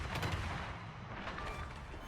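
Naval guns fire armour-piercing shells in a warship video game, booming muffled reports under a busy rumbling background, one heavy shot standing out early.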